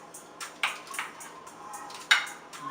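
Wings for a honey garlic teriyaki dish are set one by one into a small pan, giving a few light clinks and taps of metal and meat against cookware, spaced irregularly and fairly close.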